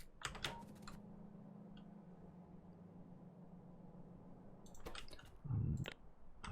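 Rapid clusters of sharp mouse and key clicks during a game of Factorio, bunched at the start and again near the end around a quiet steady hum, with a soft muffled thump toward the close; no voices.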